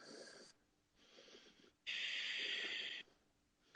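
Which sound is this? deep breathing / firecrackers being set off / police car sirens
deep breathing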